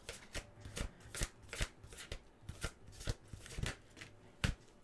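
A deck of cards for an inkblot reading is shuffled by hand, quick soft riffling bursts and taps repeating irregularly at close range, quiet and without speech.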